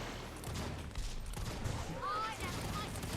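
Rifle gunfire in a video game, with shots crackling through a dense, steady wash of game noise while a voice talks over it.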